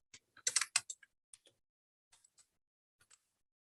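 Quick bursts of keystrokes on a computer keyboard, a dense cluster of clicks followed by sparser, scattered taps, close and fairly quiet in an otherwise silent room.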